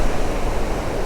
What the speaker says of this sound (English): these waves are just gonna keep kicking you back